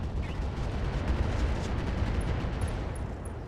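Mech weapons unloading AX rounds in the RogueTech BattleTech game: a dense, continuous roar of heavy fire and explosions, loud and unbroken for the whole stretch, with no voices.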